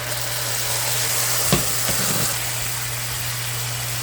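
Vegetables sizzle steadily in a pan of homemade sauce, a constant close fry hiss with a low steady hum beneath and a brief louder pop partway through.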